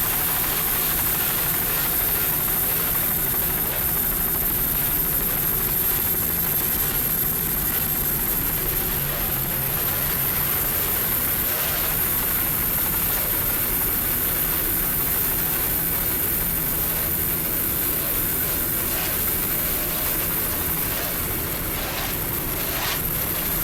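A 36-foot Cobra racing powerboat driven by three 2.5 EFI outboards in a Pro Stock race in Chicago, heard as a loud, steady, unbroken engine roar with broad hiss and no letup.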